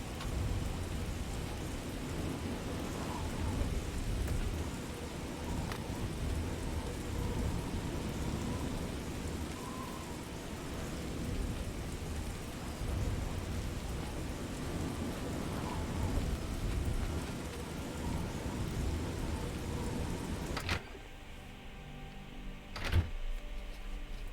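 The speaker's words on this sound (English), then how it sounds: "Sounds like the storm is finally dying down a little bit." A steady, loud wash of heavy rain with rolling thunder fills a storm in The Elder Scrolls IV: Oblivion, then drops off sharply near the end, leaving a quieter patch with one last crack.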